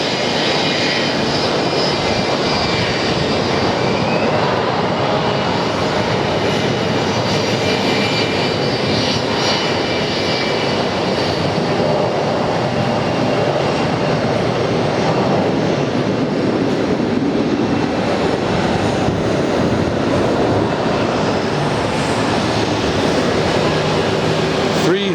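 A jet airliner roars at Atlanta's airport, a loud, continuous broadband rumble with no breaks, steady and close throughout.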